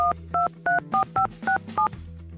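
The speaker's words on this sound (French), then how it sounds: "Je vais appeler maman et lui dire de venir me sauver." Telephone keypad dialing: seven short two-tone DTMF beeps in quick succession over a low steady hum, someone calling mom in a Lego prison prank setting.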